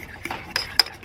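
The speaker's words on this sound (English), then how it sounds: "keep mixing up these scrambled cheesy eggs in the brats" Scrambled cheesy eggs with bratwurst sausage stirred in a pan, with a few sharp utensil scrapes and clinks against the pan over a soft background, two of them standing out clearly.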